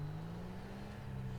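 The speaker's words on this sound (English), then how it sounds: "it's got the Sultan engine exhaust sound, but it's got the upgraded turbo sound, which I will show you" A car in GTA 5 fitted with a Sultan exhaust and an upgraded turbo drones at a steady low hum, faint and constant, with no revving or talk.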